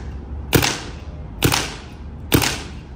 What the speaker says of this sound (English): 2 shots to clear the reg.